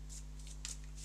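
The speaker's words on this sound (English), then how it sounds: "So we'll shuffle up" A deck of cards being shuffled during a tabletop card game play test, several quick soft riffles close by over a low steady hum, no talking.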